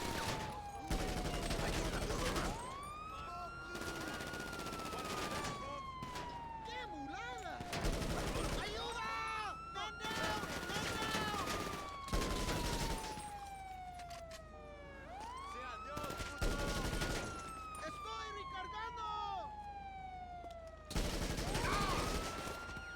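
Repeated bursts of gunfire in the video game GTA, dense volleys recurring every few seconds under wailing police sirens that sweep up and down throughout.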